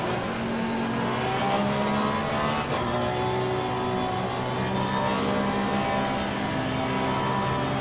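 A race car engine in Assetto Corsa Competizione drones steadily and loudly throughout, a continuous motor hum with no clear revving peaks or nearby voices.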